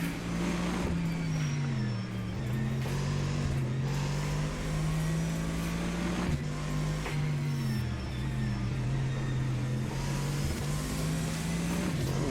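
A racing car engine in Assetto Corsa, a GT League-style car, drones steadily and loudly throughout, its pitch dipping and climbing with shifts and throttle changes, with no talk over it.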